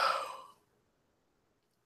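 A single breathy, drawn-out yawn from a person, fading out after about half a second and followed by near silence.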